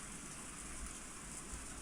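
Steady rain ambience from the visual novel Higurashi no Naku Koro ni Kai, a constant dense hiss of falling rain with no breaks, moderately loud and alone.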